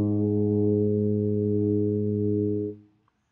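A tuba sounds a single sustained A flat, fingered on the first valve, rich and steady for nearly three seconds before cutting off cleanly into silence.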